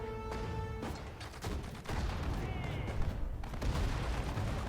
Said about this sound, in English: as they move towards us, I'll tell the infantry to open fire